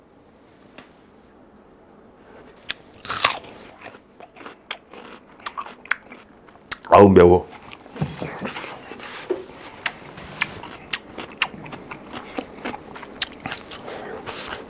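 Crunchy raw Korean radish bitten and chewed near the mic, with a loud crisp bite and then a string of sharp crunching chews, a brief spoken exclamation heard in between.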